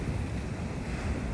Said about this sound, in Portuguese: O mar tá chiqueteira hoje, galera